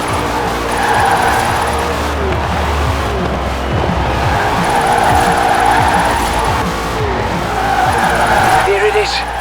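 A car drifting in Forza Horizon 4, engine roaring steadily while tyres squeal continuously through long slides, loud and close with no break.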